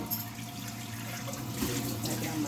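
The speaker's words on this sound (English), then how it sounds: "Let me rinse my big measuring cup out here real quick." A large measuring cup rinsed under a kitchen tap: steady, fairly quiet running water splashing into a sink, continuous throughout.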